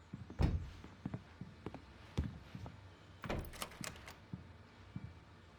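Locked door rattled and tried in Alan Wake, a cluster of dull thuds and clunks near the start, then a second knock and a run of rattling handle jolts, close and fairly loud with no talk.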